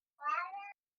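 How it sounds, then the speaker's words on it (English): A pet cat named Festus gives a single short, clear meow of under a second, close by and fairly quiet, with silence around it. "Cat!"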